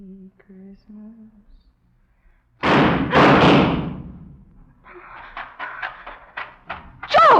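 A gunshot in an old-time radio mystery drama, one loud sharp blast with a rumbling decay, preceded by a faint hummed tune and followed by quieter clattering thumps and a voice shouting.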